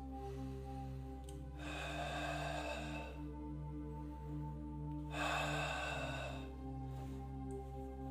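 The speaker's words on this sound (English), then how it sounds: "people that are depressed, they have a big outward breath and a short inward breath" A person demonstrates depressed breathing, a long breathy outward exhale followed by a short inward breath, repeated twice in close, quiet, audible puffs over a steady low hum.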